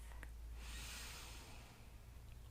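One slow, deep breath during a Pilates and yoga workout, a long airy inhale swelling and easing into an exhale, close and soft, with no talking over it.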